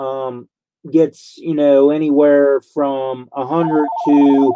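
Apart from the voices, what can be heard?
telephone ringing with an incoming call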